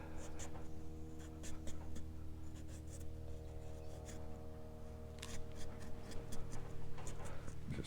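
A carving tool scrapes and rubs at a pumpkin's surface in short, repeated strokes, taking off material, over a steady low electrical hum with occasional faint voice underneath.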